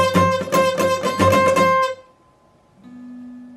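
An electric guitar plays a riff with the pinky on the 13th fret of the B string and the other strings muted: a quick run of picked, bright notes for about two seconds, then cut off to near silence.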